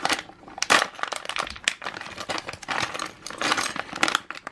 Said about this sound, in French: je te passe la pochette rose et je te laisse l'ouvrir